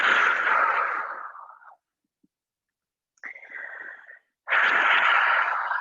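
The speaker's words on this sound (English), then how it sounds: "Take a deep breath here" Slow, deep breaths during a twisting yoga pose: a long, airy exhale, a pause of silence, a shorter breath, then another strong, breathy exhale, all close and clear with no talking.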